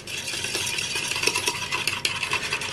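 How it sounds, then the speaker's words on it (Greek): A spoon stirs a tablespoon of sugar into about 200 grams of water in a bowl, making a steady, close scraping and clinking rattle that continues throughout. "Ανακατεύουμε καλά"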